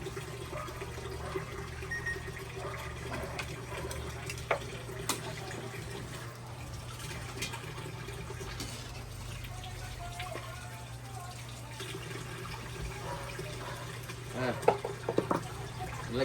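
Boiled bamboo shoots are rinsed in water, with a steady watery rush running throughout. Soft splashes and clinks rise near the end, and a low hum sits underneath.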